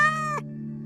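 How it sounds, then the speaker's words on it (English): A cat gives a short, tonal meow that cuts off abruptly, heard over a low steady hum. "That sounded like Kitty didn't really want to be there."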